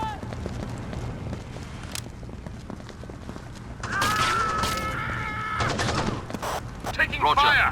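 Gunfire in the Xbox game Rainbow Six 3, sharp bursts of shots and clattering impacts over a busy backdrop of footsteps and movement, growing denser toward the end, with game voices mixed in.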